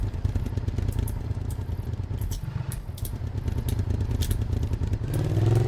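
A damaged vehicle engine in ARMA 3 runs with a rough, loud sputtering rumble and rattling clatter, steady and close, with the pitch rising briefly at the end.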